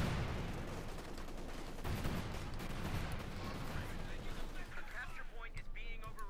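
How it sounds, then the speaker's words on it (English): Cluster bomb explosions in the Company of Heroes 2 strategy game, a dense continuous barrage of booms and crackling blasts layered over battle noise, loud throughout with someone commentating over it. "we got more cluster bombs here for Luciano, just throwing them out left and right"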